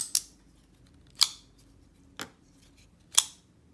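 A Spyderco Para 3 folding knife with M4 steel blade snapping shut, four sharp metallic clicks spaced about a second apart, close and crisp against a quiet background.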